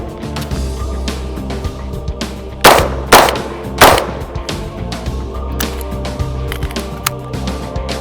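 A police trade-in Bushmaster 11.5-inch short-barreled AR rifle fires three sharp, loud shots in quick succession, two close together and a third just after, with quiet background noise before and after.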